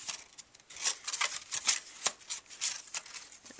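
Paper pieces of a craft box folded by hand, a close run of soft crinkles, creases and light rustles in irregular bursts, quiet and near, with no talking.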